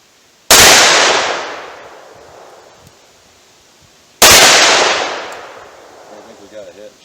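Two loud, close .357 Magnum shots from a 4-inch barrel revolver, about four seconds apart, each a sharp crack trailing into a long echoing decay at an outdoor range, with brief talk after the second.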